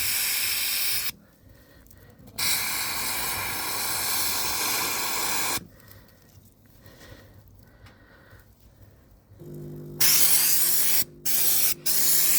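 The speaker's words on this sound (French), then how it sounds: "quand vous envoyez la vapeur, vous les voyez sortir quelque part" A steam cleaner sprays loud hissing bursts of steam onto a nest of Tapinoma magnum ants. Three long blasts are separated by quiet gaps, and short, sharp spurts come at the end.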